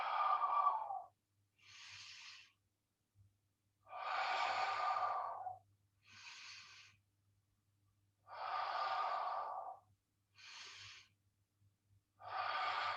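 Slow, deliberate QiGong breathing: long audible inhales and exhales alternating in a steady cycle, close and soft, over a faint low hum, with no talking.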